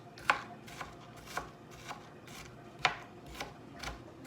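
A knife chops onion finely on a cutting board for meatloaf, with about eight crisp, evenly spaced strikes heard close up and no talking.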